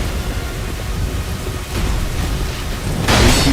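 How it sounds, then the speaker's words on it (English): The Looking Glass Knight's lightning attack in a video game rolls out as a loud, sustained rumbling crackle and ends in a sharper, brighter burst. "dodge his very dangerous, very deadly lightning attack"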